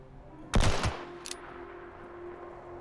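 A rifle fires in Fallout 76: one loud, sharp gunshot burst with a quick second crack, then a fainter distant report, over a quiet hum.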